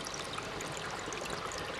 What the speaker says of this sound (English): the water is flowing away nicely down the centre